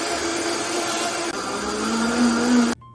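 Blender whirring steadily as it purees a roasted red pepper sauce from a jarred 24-ounce supply, a loud continuous motor drone that rises slightly in pitch before cutting off abruptly near the end.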